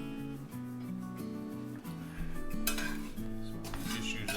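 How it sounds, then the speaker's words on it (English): Onions and sausage in a frying pan, stirred with a utensil that clatters and scrapes against the pan, with a faint sizzle and background music. "So just usually like to give it a nice little stir"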